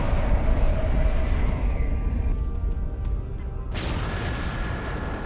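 Rumbling explosion as a planet is destroyed in a Star Trek video game, a loud low boom that fades, then a sudden bright burst of noise near the end.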